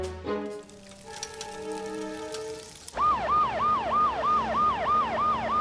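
A cartoon fire truck's siren sounds loud and close, first a steady multi-tone horn blare, then a rapid rising-and-falling wail that repeats evenly for several seconds with no talking.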